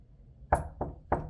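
Three firm knocks on a door, evenly spaced and close, each a sharp thud ringing briefly in a quiet room with no voices.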